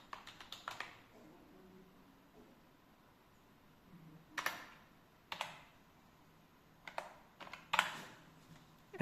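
Computer keyboard typing while details are entered to download an Aadhaar card, in short bursts of close, light key clicks separated by quiet pauses.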